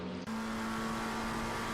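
A GT2 race car on the Dottinger straight of the Nordschleife in a racing video game, a loud steady engine roar at high revs held at full throttle through a short burst, with no talk.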